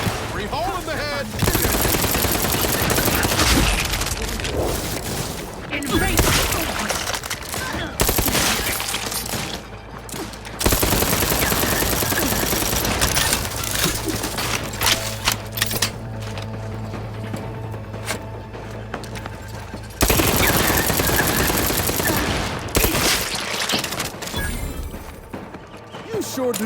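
Machine gun fire in Outer Worlds 2, sustained loud automatic bursts repeating across the stretch with mechanical clatter and brief pauses, and a voice talking over part of it.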